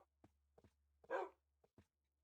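A dog in the Minecraft video game gives a handful of short, sharp barks and yips spaced over a couple of seconds, with one louder, fuller bark in the middle, alone against a near-silent background.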